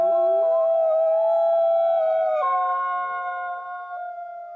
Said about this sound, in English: That cry! A wolf!